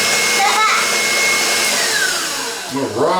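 An electric mixer beats cinnamon sugar batter for bow ties, a loud, steady motor whine running at speed that dips and shifts pitch near the end.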